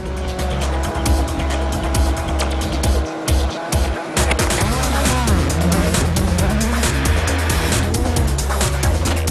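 Rally cars from the 2012 WRC Rally Sweden race at high speed through a snowy forest, engines roaring loud and close, with sustained revving, passing surges and tire noise on snow and ice.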